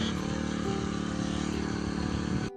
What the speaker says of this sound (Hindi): ये इंजन वाला पंप है, इससे बहुत जल्दी दवाई का छिड़काव हो जाता है।